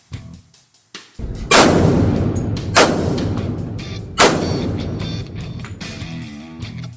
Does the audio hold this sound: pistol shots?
yes